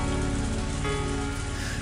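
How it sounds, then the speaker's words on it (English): A heavy rain downpour in the Higurashi video game roars as a constant, dense wash of drumming drops, loud and unbroken throughout, with no voices. "this was a downpour"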